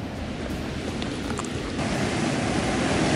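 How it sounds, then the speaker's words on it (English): Flooded Boise River in Idaho rushing over the spot where a surf wave used to form, a loud, steady roar of churning water that swells slightly toward the end, with no voices. "right there is what used to be the river wave. It is completely flooded, and the water's all the way up here."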